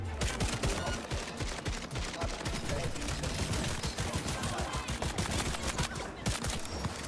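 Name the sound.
gunfire from a gun in the video game Cyberpunk 2077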